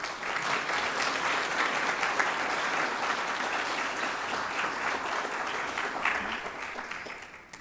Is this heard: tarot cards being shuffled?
no